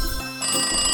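Telephone ringing with a loud, close electronic ringtone tone that sounds briefly, stops for a moment and then starts again, with no voices.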